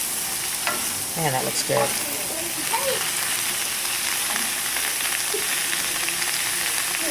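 Satay dipping sauce stirred and sizzling in a hot pan with olive oil and sesame seeds, a steady close frying hiss throughout with scraping stirs, under a man's brief speech.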